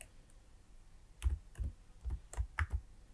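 Keys tapped on a computer keyboard while entering code for a div layout, a sparse run of about six to eight distinct clicks in uneven rhythm, close and fairly quiet against a soft hiss, with no talking.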